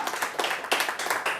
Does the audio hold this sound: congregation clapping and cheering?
yes